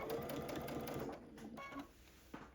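A sewing machine stitches a Dresden quilt tree skirt in a quiet, steady run of close, rapid mechanical clatter that slows and breaks into a few separate stitches near the end.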